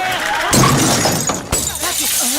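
A fluorescent tube light bursts overhead after a car slams into a post, a loud sharp shatter of glass followed by scattered tinkling, with voices talking over the noise.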